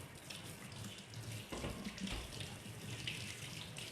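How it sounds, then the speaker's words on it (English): Tap water runs steadily into a kitchen sink while hands are rinsed under it, a continuous close splashing hiss with a few louder splashes partway through. "I'm gonna wash my hands off real quick"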